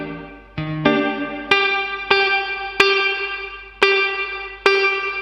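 A DemonFX Reverb & Delay pedal on its plate reverb setting colours a series of distorted electric guitar chords, each struck about once a second and ringing out with a bright, shimmering plate tail that fades before the next strum.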